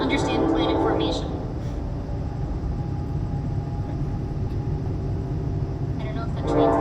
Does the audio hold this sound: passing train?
yes